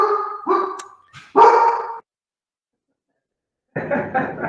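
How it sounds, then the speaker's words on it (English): A pet dog barks several times in a quick burst, sharp and fairly close, falls silent for a couple of seconds, then lets out another short run of barks. "Sorry, my dog's barking."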